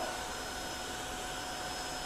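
A Tineco ONE S3 cordless wet vacuum cleaner running on a floor, giving a steady, even whir and hiss that holds unchanged throughout at moderate level with no speech.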